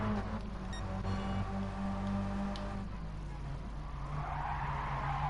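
Race car in a racing video game riding up over the curb at Interlagos, tires skidding and squealing with a steady engine drone underneath, close and continuous over several seconds.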